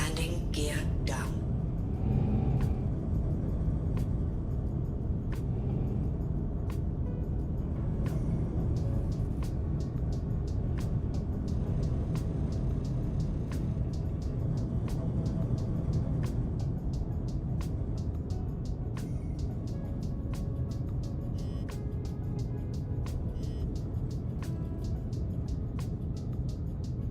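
A small spaceship in Star Citizen settles down to land, a low continuous engine rumble and hum with scattered clicks and ticks running steadily throughout.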